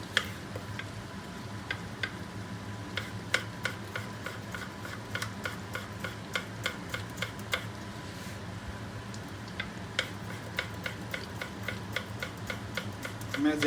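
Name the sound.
knife chopping tomatoes finely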